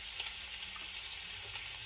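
Italian sausage browning in a pan for kale soup, a steady, close frying sizzle that holds even throughout with no talking.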